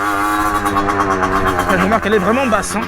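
A motorcycle engine hums steadily while riding, a loud mid-pitched drone with rising and falling revs, under someone speaking French.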